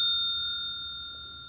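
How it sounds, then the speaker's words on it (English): A meeting timer's bell rings once with a clear, bright strike, then its tone rings out and slowly fades, alone in a quiet room. "she will ring the bell at"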